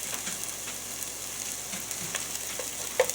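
Onions browning in a frying pan for low-carb meatballs in marinara sauce, a soft steady sizzle with a few light stirring clicks, fairly close and quiet, with no one talking.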